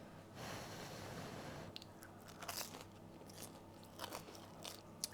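Freshly baked pão de queijo with a crisp crust and soft inside is bitten and chewed, a few close crunchy crackles over quiet room noise.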